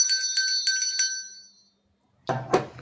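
A handheld bell rung in four quick bright strikes, each ringing out and decaying to silence, followed by a brief rustling handling noise.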